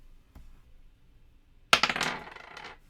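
A die rolled in a solo game of the board game Fantastic Factories: a sharp clatter onto the table followed by a few quick bouncing rattles that fade out, close by, after near silence.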